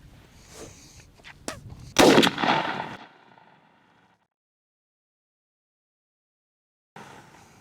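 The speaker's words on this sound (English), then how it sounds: "But we're gonna shoot that left target." A Stevens 301 turkey shotgun fires a single loud blast at a target, the boom decaying over about a second before near silence, with faint handling noise around it.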